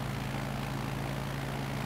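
A light aircraft's engine drones steadily in Microsoft Flight Simulator during flight over Monterey Bay on the California coast, a continuous low hum with no talk.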